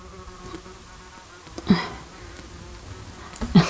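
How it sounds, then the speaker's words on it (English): A wasp buzzes briefly and faintly at close range in a quiet room, with two short louder passes near the middle and the end against a soft background and no speech. "I have a wasp here."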